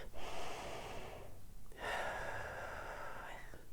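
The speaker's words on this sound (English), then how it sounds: "So I'm gonna just take a couple of breaths right now with you." Two slow, deep breaths taken close to the microphone, each a long airy inhale or exhale lasting over a second, separated by a brief quiet gap.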